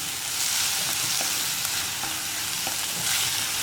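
Onion, garlic, chilli and curry leaves sizzle steadily as they are stir-fried in a pan for jackfruit seed mezhukkupuratti, with occasional scraping stirs over the constant hiss.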